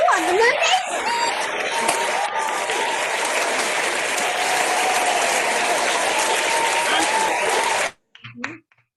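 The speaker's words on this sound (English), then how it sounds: "Let's give Yulia a round of applause" Applause from an online audience, a steady wash of clapping that runs for about eight seconds before cutting off abruptly, followed by a brief faint noise.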